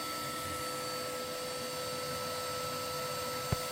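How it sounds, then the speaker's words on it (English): A hoover runs steadily up the flue of a Fireglow Eco 7 multi-fuel wood burning stove with no liner, a constant broadband roar with a mains-like hum, briefly interrupted by a single sharp knock near the end. "So you can see the hoover's up there"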